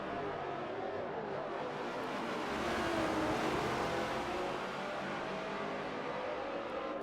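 Race cars running at Sonoma in a NASCAR video game, a dense continuous engine roar that swells slightly around the middle, loud and unbroken with no talk.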